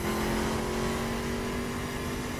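A car in the racing video game The Crew speeds flat out down a road, its mid-pitched engine droning steadily and loud throughout with no breaks.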